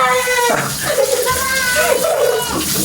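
Tap water pouring steadily while a child is bathed, a continuous close splashing stream under a voice and a voice.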